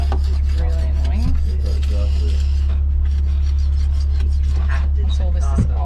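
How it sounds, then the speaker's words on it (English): Old paint being scraped off a boat during renovation, rough rasping strokes repeated close-up over a loud steady low hum, with bits of talk mixed in. "I don't like scratching off paint"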